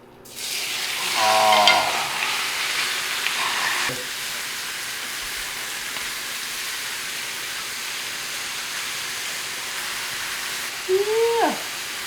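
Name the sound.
chub frying in ghee butter in a hot pan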